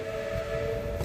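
A steam locomotive whistle sounds at a railway museum, one steady sustained tone held for the full moment, fairly loud and alone without speech.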